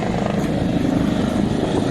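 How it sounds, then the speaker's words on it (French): A helicopter flies over the sea near the Lérins islands and Antibes, its engine and rotor making a steady, loud low drone with a faint rhythmic chop, continuous throughout. "Il y a un balai incessant d'hélicos."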